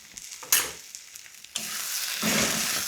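Partially cooked potatoes sizzle and fry in a pan, with a few scraping stirs and clattering jolts breaking a steady, moderately quiet hiss close by.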